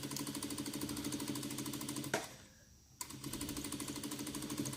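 A sewing machine stitches down fabric on a baby dress in a fast, even mechanical whir, pausing briefly in the middle before running on again.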